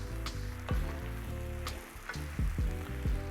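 Potatoes go into a hot pan for tartiflette and crackle in a dense, steady sizzle. Scrapes and knocks from the stirring utensil break through the sizzle now and then.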